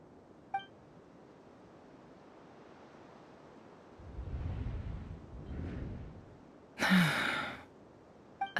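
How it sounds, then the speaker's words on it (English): A sharp breathy gasp from a character in the Genshin Impact video game, heard once up close after a softer sigh-like breath, over faint ambient wind and a few small chimes. "I heard Yehoda gasp"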